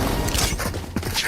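A weapon reloading in the video game Valorant: a quick sequence of mechanical clicks and clacks, close and loud, over game background noise.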